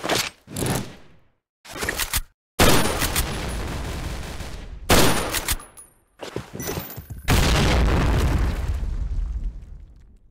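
In the Point Blank video game, a planted bomb explodes amid bursts of gunfire, with loud, repeated blasts and rattling volleys separated by short silences.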